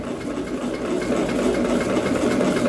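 A sewing machine running steadily while stitching fabric set to tight tension for gathering, a continuous close mechanical hum and rapid needle chatter with no talking.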